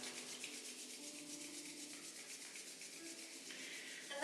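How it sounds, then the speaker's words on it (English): Palms rubbing together during a yoga session, a steady soft swishing friction that runs continuously and quietly throughout with no talk. "bringing those palms together,"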